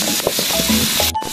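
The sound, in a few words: garlic frying in a pan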